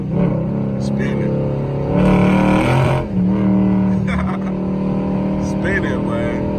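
A Dodge Charger SRT8 with a manual transmission and worn tires spins its wheels on a highway, the engine roaring and surging loud and close with a rising burst of revs in the middle.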